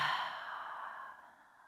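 Slow breathing-exercise exhales blown out through the mouth, a breathy rush that starts strong and fades gradually over under two seconds, close and soft, with no talking.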